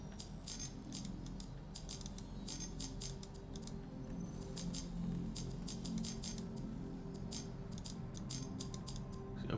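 Computer mouse clicking while playing Star Citizen: faint, irregular clusters of sharp, quick clicks over a low steady background hum, with no talking.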